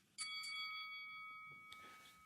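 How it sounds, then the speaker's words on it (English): A boxing round bell gives one bright strike, then its metallic tone hangs and slowly fades, with a faint knock partway through the ring. "Is that the bell?"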